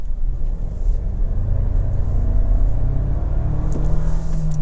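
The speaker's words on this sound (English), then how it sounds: "if I go really slow and just stab the throttle here" A 2024 Toyota Tacoma Limited hybrid pulls away after a throttle stab, its engine giving a steady low rumble that rises slowly in pitch as it accelerates, heard from inside the cab with no talk.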